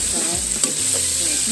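Beef tapa sizzles steadily in a pan with a constant bright hiss, broken by a few soft stirring scrapes, no voices.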